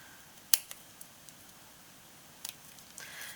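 Small chipboard leftover being cut, with a sharp snip near the start followed by a few faint clicks and a quieter double snip later, then light rustling, no voices.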